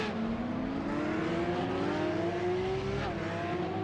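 A Porsche Supercup race car spinning out at Spa-Francorchamps in the iRacing video game: a continuous engine whine rising steadily in pitch, then breaking off briefly, over constant track noise.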